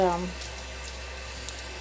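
Lukewarm water runs steadily from a tap while an equine grooming kit is rinsed, a soft continuous hiss that follows a brief voice at the very start.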